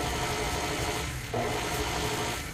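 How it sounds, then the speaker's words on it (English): An electric stand mixer slowly beating all-purpose flour into coffee cake batter, a steady buzzing whir with rasping scrape, briefly dipping as it is switched off and on again. "Then turn the mixer on very slowly."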